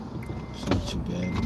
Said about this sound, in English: I'll crack that back window.